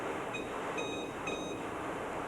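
A Unisys Aquanta HS/6 computer from 1997 sounding its alarm: three short, high electronic beeps evenly spaced over a steady background hum.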